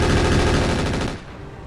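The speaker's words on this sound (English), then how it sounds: "Suppose you can waste some machine gun rounds." Rapid, loud machine gun bursts in the mech game RogueTech hammer out continuously, then fade into a softer echoing tail.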